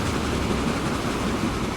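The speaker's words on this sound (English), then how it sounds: "we have a second train coming" A train in the video game Transport Fever 2 rumbles past, a dense, steady rolling roar filling the whole moment with no voices over it.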